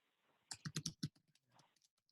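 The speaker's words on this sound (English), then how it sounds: "I just need to finish typing it real quick" Several quick clicks of typing on a computer keyboard as a question is entered, a tight burst of keystrokes followed by softer, scattered taps, close and fairly quiet.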